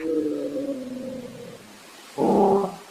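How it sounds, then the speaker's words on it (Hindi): A black monkey screeching loudly as a horror-story sound effect, a long strained tonal wail followed by a shorter, louder harsh burst after a brief pause, close and alone. "तभी वह काला बंदर जोर जोर से चिंघाड़ने लगता है।"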